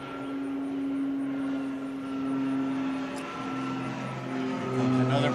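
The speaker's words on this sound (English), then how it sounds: "Here comes another plane coming in for a landing at Limerick Airport." A plane coming in to land at Limerick Airport, heard from an adult baseball game nearby, gives a steady, fairly faint engine drone with a low hum that swells slightly toward the end.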